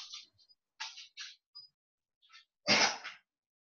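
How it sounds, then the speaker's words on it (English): A dog sneezes once, sharp and close, after a few faint sniffs and small snuffling noises in an otherwise quiet room. "Oh, bless my dog, he sneezed."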